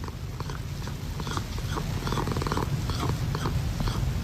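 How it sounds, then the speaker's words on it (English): A cat asking for breakfast, with close, continuous purring and rumbling vocal sounds that grow slightly louder. "His cat has a unique way of telling him he's ready for breakfast."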